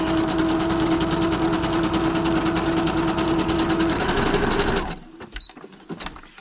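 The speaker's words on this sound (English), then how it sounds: "Right, so I just keep varying the stitch length and the stitch width." A sewing machine stitches steadily through paper, the running whir continuous and close for several seconds before stopping abruptly, leaving a few faint clicks and handling noises.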